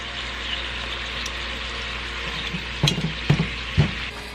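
Beef browning in a pot for stew, a steady loud sizzle and crackle close by, with a few clinks and scrapes of a utensil near the end.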